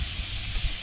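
Burgers made from a pound of 80-20 ground beef and shaped with a form hiss steadily on a griddle during RV cooking, with a couple of soft low thumps as the patties are flipped.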